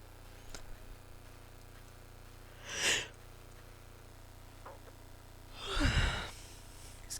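A person yawning twice, two long breathy exhalations a few seconds apart, the second louder and deeper, close to the microphone over a quiet background hum.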